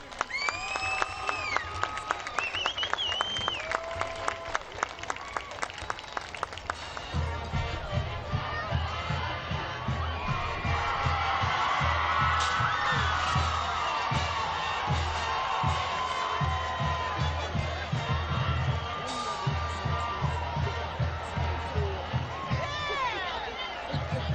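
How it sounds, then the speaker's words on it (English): A crowd at a varsity high school football game, Woodbridge vs. Colonia, cheers and applauds steadily, with an announcer's voice over the start and scattered whistles and shouts through the dense clapping. "can we please have one nice round of applause for this historic team?"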